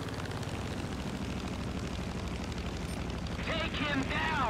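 Piston engine of a P-47D-28 Thunderbolt fighter in War Thunder, a steady loud drone throughout with rising whining tones near the end.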